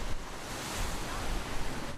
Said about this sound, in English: Big waves and gusty winds, just 2 products of Hurricane Sandy